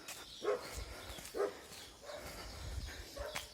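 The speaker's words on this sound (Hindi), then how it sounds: "इस रास्ता पे तो इतना ज़्यादा डॉगी है यार" Several dogs on a road, barking in short, separate yaps with faint whines between them, at a moderate distance over low background noise.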